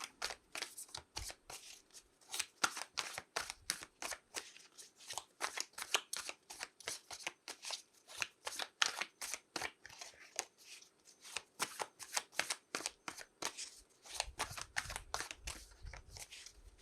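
Oracle cards featuring animal spirits are shuffled at length, giving a steady run of crisp riffling flicks and taps, close and fairly quiet, with a low rumble near the end and no talk over it.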